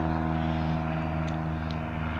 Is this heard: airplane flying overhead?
yes